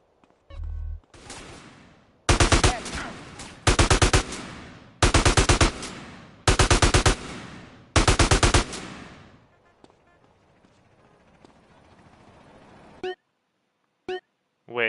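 AK rifle fire in the GTA San Andreas video game: five loud rapid bursts spaced evenly, each a tight string of shots, followed by a quieter tail and a couple of short isolated blasts at the end.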